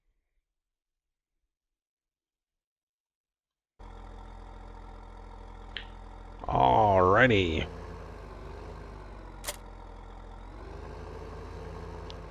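Tractor engine in Farming Simulator 2015 runs with a steady mechanical drone after a few seconds of silence, while someone speaks over it briefly in the middle.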